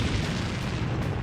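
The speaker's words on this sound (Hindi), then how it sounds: "फिर हुआ ऐसा धमाका" A tank blows up after a Lancet drone strike, a dense, loud, rumbling blast roar that fills the whole short moment without a break.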